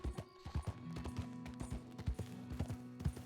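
Horse hooves clip-clop steadily in a Western cowboy video game, a brisk, regular gait of many close, moderately loud hoofbeats, with a sustained musical tone underneath.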